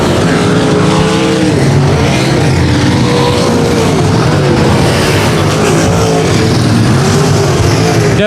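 Race cars roar around the 281 Speedway oval, a loud, continuous engine drone whose pitch rises and falls as the cars power down the back straight into the turn.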